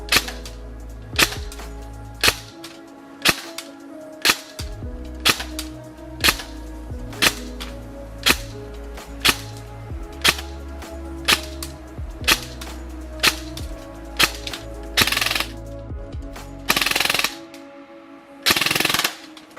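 An Umarex/VFC HK416D CQB Gen 3 airsoft electric gun fires a string of sharp single shots at a steady pace, each with a short mechanical whirr, and two or three longer buzzing bursts follow near the end, with no talk.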